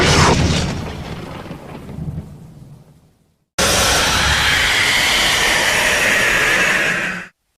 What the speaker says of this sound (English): a jump scare with the thunderstorm ambience music